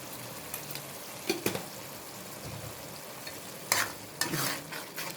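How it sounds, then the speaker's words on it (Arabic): A spoon stirs spices into simmering tomato sauce in a pot, with soft scraping strokes and light sizzling, a few louder clinks against the pot standing out over a steady low bubbling. "قلبي حاجتك بقى وبهاراتك كلها في قلب الصلصه"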